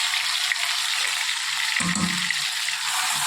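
Onion, tomato, garlic and chillies fry in oil in a pan, giving a steady broadband sizzle that holds throughout, with a brief stirring clatter near the middle.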